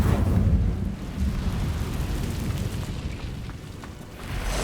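Roaring, rumbling burst of the Incendio fire spell in Hogwarts Legacy, loud at the start and then sustained as a dense crackling whoosh, with no talking.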